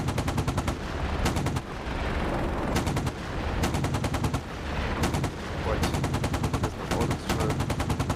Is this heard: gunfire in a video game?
yes